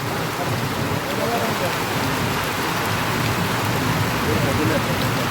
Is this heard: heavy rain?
yes